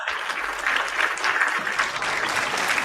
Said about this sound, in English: worked out perfectly with clapping